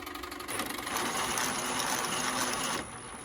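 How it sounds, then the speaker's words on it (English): Robot swerve drive wheels spin forwards in a test, a steady whirring mechanical buzz that swells after half a second and holds, then drops back near the end. "So currently all of the wheels are spinning the correct direction."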